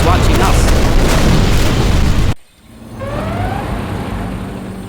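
A nuclear missile detonates in C&C Generals, a deep loud boom filling the first half before cutting abruptly to a quieter rumbling aftermath with faint rising tones.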